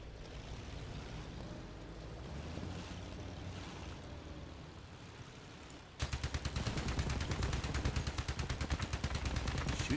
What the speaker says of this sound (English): Shoot those guns.